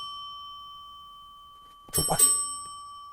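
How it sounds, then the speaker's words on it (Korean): A doorbell rings twice in quick succession with sharp chiming strikes that stand out after a quiet stretch with a steady hum, and a voice speaks briefly. "시작을 하면은 초인종이 울려요."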